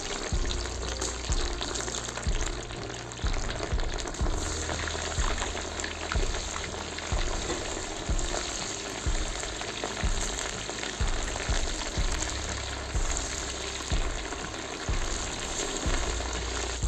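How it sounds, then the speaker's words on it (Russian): Chunks of meat sizzle and crackle hard in hot oil in a kazan while plov is being cooked, a dense, steady frying hiss that runs on without a break. "Масло накалилось, теперь опускаю в казан мясо"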